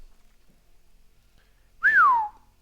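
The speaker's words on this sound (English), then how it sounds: "I just whistled twice." A person whistles once during a Magic: The Gathering draft stream: a single clear, loud pitch that swoops up and then glides down, about half a second long, against near silence.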